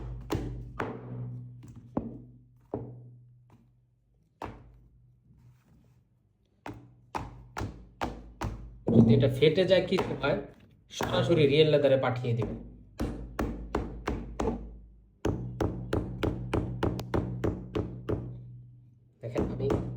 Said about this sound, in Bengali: এই জুতাটা আপনারা বাড়িতে নিয়ে এভাবে হাতুড় দিয়ে দিবেন